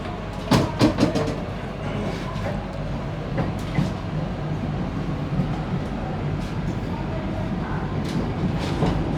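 Vande Bharat Express pulling into Shoranur Junction, with a steady rumble and rhythmic wheel clatter throughout, several sharper clanks early on, and faint voices in the background.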